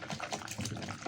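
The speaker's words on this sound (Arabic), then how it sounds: "انا حطيت عليه ميه كده عاديه خالص من الحنفيه" Ordinary tap water from a kitchen faucet pours steadily into a small plastic container, a loud, close, continuous gushing splash with no talking over it.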